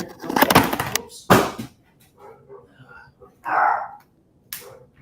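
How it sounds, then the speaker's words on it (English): Dogs bark in several loud, sharp bursts close by, irregularly spaced with short gaps between them, and a voice speaks briefly between the barks. "Oops, dogs."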